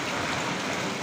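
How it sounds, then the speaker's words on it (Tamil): Heavy rain falling in a dense, constant hiss, close and loud without a break, with no voices. "இப்போது இந்த மழை பெஞ்சிக்கிட்டே இருக்குது."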